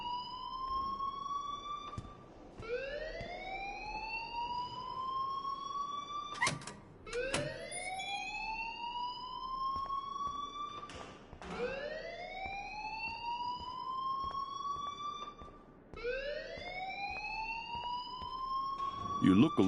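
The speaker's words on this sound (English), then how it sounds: "please turn off that alarm since that's your job" A fire alarm rings in the video game Life is Strange, a repeating rising electronic whoop that sweeps up again every few seconds, loud and continuous, with brief sharp clicks between sweeps and a voice speaking underneath.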